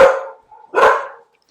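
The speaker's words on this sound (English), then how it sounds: "I told you they were going to bark" Two loud barks from a dog at close range, a short pause between them, with nothing else around.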